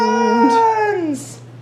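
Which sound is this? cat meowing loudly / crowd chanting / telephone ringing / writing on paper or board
cat meowing loudly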